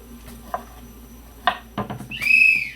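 A whistle is blown once near the end, a short shrill tone after soft clicks and small knocks in a quiet kitchen.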